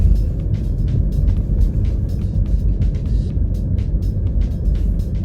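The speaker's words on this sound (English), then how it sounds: "Kat's driving my car" A car driving on the road, heard from inside the cabin: a loud, continuous engine and road rumble with steady tire noise and faint intermittent rattles, close and without talk.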